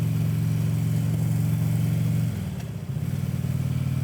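A motorcycle rides steadily with a loud, close, continuous engine drone on the way to a lake. Partway through it briefly drops in pitch as the engine shifts, then picks back up and carries on to the end.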